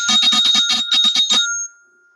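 Note F rolled on a mallet percussion instrument in a concert Bb scale: a quick run of rapid repeated strikes on one bright bar, followed by a ringing tone that fades out to silence.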